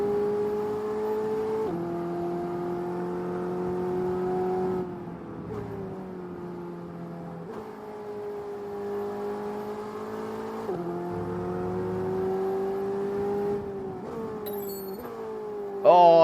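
An F1 race car engine in the F1 22 video game holds a steady high whine, then drops pitch in stages as the car brakes for a corner and climbs again, loud and continuous with a brief spike at the end.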